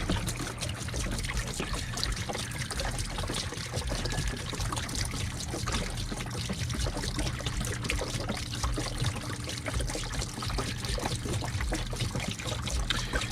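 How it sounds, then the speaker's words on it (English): Fluid from a 2009 Hemi engine in a 1500 truck build drains into a large concrete mixing tub used as a drain pan, giving a steady, faint trickle under broadband background noise throughout. "We're going to go ahead and drain this into our drain pan here."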